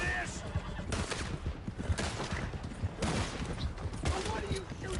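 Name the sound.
gunfire in the video game Red Dead Redemption 2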